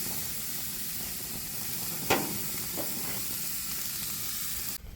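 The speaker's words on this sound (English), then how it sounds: "when you flip the steaks here, and it's got that nice grill pattern" Steaks sizzle on a Napoleon Freestyle 365 barbecue grill, a continuous close hiss with a sharp crackle and a smaller pop as the meat is turned.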